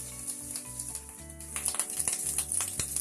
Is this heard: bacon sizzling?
yes